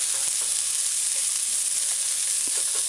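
A hamburger patty frying in a pan on a stovetop set to 6, a steady loud sizzle with faint scraping as a spatula works beneath it, close up and without talk.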